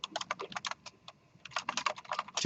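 Someone types a code comment on a computer keyboard: quick, crisp clicking keystrokes in uneven bursts, with a short pause in the middle, close and clear with no talking.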